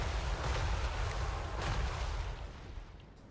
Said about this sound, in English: This is all 6 of them shooting at the same silver helm